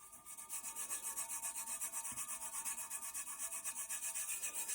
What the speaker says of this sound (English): kind of rub the glitter in.